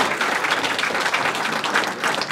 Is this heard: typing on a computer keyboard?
no